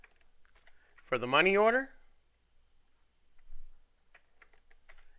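Keys tapped on a computer keyboard for a Control-Shift-N shortcut, faint scattered clicks heard around a short spoken phrase.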